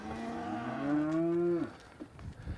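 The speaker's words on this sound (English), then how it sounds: "these little heifers are looking for their herd mate" A young heifer lets out one loud, drawn-out moo, calling for a herd mate in a cattle pen, followed by faint shuffling and ambient farm noise.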